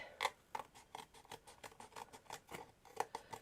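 Scissors snip repeatedly through craft material for a miniature girly bedroom diorama, a quick irregular series of close, crisp cuts and clicks with no talking.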